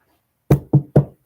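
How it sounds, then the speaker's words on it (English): Three quick knuckle knocks on a Formica surface, close and dry, evenly spaced after a moment of silence. "Knock on Formica for next week"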